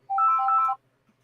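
A telephone rings once with a short, bright electronic tone that has a warbling melodic pattern, loud and close, followed by silence.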